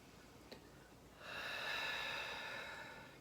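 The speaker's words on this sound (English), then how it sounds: "just invite you to take another nice deep breath" Slow, deep breath drawn through the nose during a guided acupressure exercise: a brief sniff, then a long, soft, close inhale that swells and holds, with no talking.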